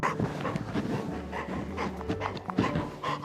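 Tucker the dog pants steadily up close, quick rhythmic breaths with a faint whimpering edge running through the whole stretch.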